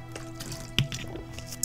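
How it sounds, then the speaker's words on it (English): Someone taking a quick sip of water, a few soft wet slurps and a gulp close to the mic in a quiet room, ending with a sharper click. "let me just sip some water very quick"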